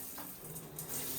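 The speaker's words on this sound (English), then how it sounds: "Now water's coming on, not down out of that faucet right here, but out of the shower head" Water runs from a Kohler shower head after the knob is twisted, producing a steady hiss of spray that is moderately quiet and has no talking over it.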